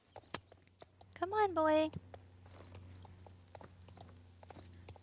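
Hooves of a rescue pony trotting on arena footing while being lunged, with soft, steady clip-clop beats throughout. A voice speaks briefly and a high horse whinny rises near the start.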